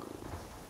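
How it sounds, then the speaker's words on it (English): A contented cat purrs softly and steadily at close range, a low continuous rumble lasting under a second with no voices. "Yep, this cat's quite happy now."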